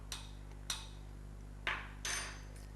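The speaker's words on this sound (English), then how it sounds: "Give it a stir." A spoon stirring tea in a plunger pot, giving four light clinks against the pot with short ringing tails, close and quiet over a low steady hum.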